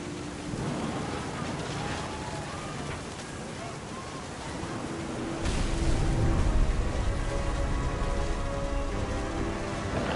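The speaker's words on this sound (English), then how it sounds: "The thunder sounded much too close and full of angry power." Rain and rumbling thunder from a storm in the video game What Remains of Edith Finch, a steady wash of rain that grows louder and heavier midway, with a low roll of thunder beneath and faint music-like tones.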